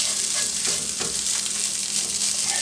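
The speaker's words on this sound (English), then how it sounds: "I am going to get everything a little stirred up" Leftover turkey hash frying and being stirred in a pan, a continuous bright sizzle with scraping strokes of a utensil breaking through at irregular moments.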